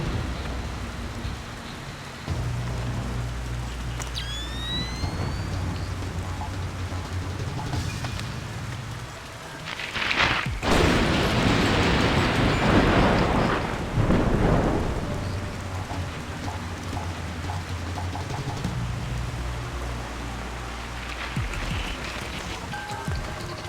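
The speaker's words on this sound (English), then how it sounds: "Wait for another lightning strike and then move up." Thunderstorm in Splinter Cell Pandora Tomorrow: steady rain patters throughout beneath a low rumbling drone, then a loud thunder crack and rolling boom swells near the middle before fading back to rain.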